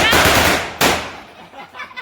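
Diwali firecrackers burst nearby in two loud sharp cracks, the first a rapid crackling string and the second a single bang, each trailing off into noisy rustle.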